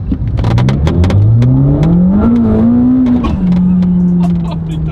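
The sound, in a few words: supercar accelerating hard, transmission whine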